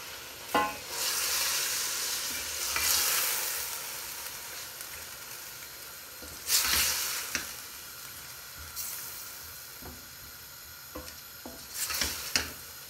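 Chicken mince with spices sizzles and fries in a pan, with bursts of stirring and scraping every few seconds over a steady crackle, close and clear with no talking.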